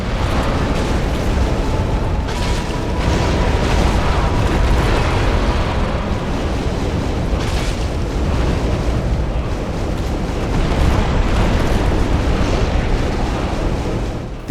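Fire in Dark Souls roars as a steady, loud, dense rumble that sounds like an eruption and keeps going with no break. No voices are heard.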